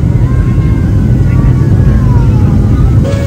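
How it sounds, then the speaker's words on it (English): Loud, steady roar of an airplane cabin during landing, a broad engine and air rush with a faint whine, heard close from inside with a voice talking over it. "We are landing."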